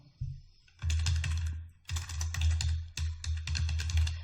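A computer keyboard clatters as a category name is typed, with quick close-up bursts of keystrokes separated by short pauses and no speech.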